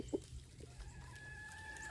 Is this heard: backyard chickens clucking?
yes